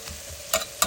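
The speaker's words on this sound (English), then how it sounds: "just stir fry the onions in this butter for about a couple of minutes" Chopped onions stir-fry in butter in a pan, giving a soft steady sizzle with a couple of brief scraping stirs near the end.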